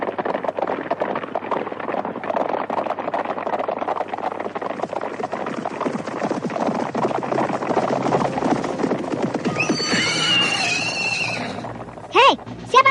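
Horses whinny and snort close by amid steady clattering movement and outdoor noise, with a sharp neigh rising near the end; a voice briefly speaks at the close.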